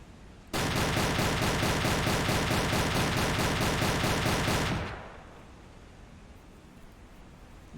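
Sustained rapid gunfire in Silent Hunter 3, a U-boat deck gun or machine gun firing at a small cargo ship or trawler; a loud, dense burst lasts about four seconds and then stops abruptly, leaving quiet background hiss.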